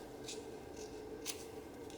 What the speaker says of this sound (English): I'm going to take one of my really nice scissors.